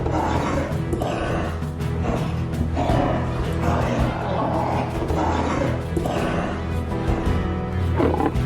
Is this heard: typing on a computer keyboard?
no